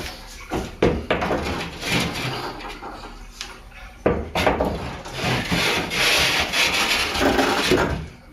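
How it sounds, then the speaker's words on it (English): A cement board is shoved and scraped into place against the framing of a bathroom wall during a shower remodel, with rough rubbing, grinding scrapes and a few sharp knocks, close and uneven, with no talk. "Now I just gotta put the concrete board up and see if it fits"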